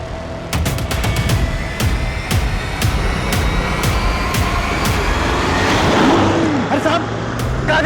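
A car speeds past a man in a Hindi crime-drama scene and narrowly misses him. The engine noise is fairly loud and steady, with sharp transient clatters, and voices are heard during the pass.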